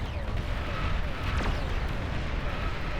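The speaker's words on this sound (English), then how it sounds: "An explosion almost as strong as a nuke." Huge explosion from a unit rammed into an enemy base in the Beyond All Reason strategy game, a sustained rumbling blast with crackling debris rolling on for several seconds at steady loudness.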